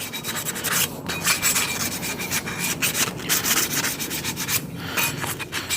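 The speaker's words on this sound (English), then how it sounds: "And we're going to go ahead and sand the rest of those down." Trans Am parts being hand sanded during a teardown: steady, continuous abrasive rubbing strokes at close range, dense and fairly loud throughout, with brief pauses between passes and no talking.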